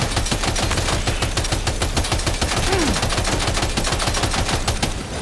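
Sustained machine gun fire in the video game Death Stranding 2, a dense unbroken stream of rapid shots lasting throughout, loud and close, with no talking.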